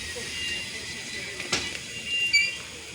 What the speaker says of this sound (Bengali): বর্তমানে আরেকটি লোকোমোটিভ আসতেছে